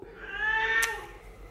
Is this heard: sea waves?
no